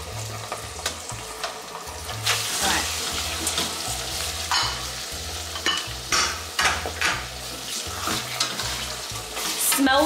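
Onion and octopus cook in a hot pan, sizzling steadily and loudly throughout, with repeated stirring scrapes and clatters from a utensil and no talking.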